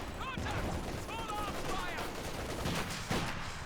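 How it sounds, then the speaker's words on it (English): MG34 machine gun fire in Company of Heroes 2, dense rattling bursts under a caster's voice with a continuous low rumble of battle noise. "Nice use of the MG34 there to get suppression on the penal battalions"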